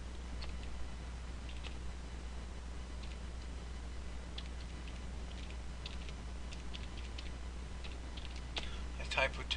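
Slow two-finger typing and mouse-style clicking on a computer keyboard, scattered light taps that grow busier toward the end, over a steady low electrical hum with speech faintly present.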